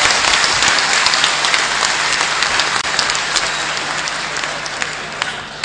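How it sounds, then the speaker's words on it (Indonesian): Audience applause at an Indonesian PKS party national gathering, a dense, steady roar of many hands clapping that slowly tapers off toward the end. "Kita berikan aplaus kepada yang termuda."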